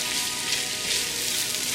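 Onions frying in a pan with a steady, close hiss and crackle of sizzling oil that holds even throughout.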